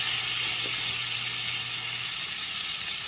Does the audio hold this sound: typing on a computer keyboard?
no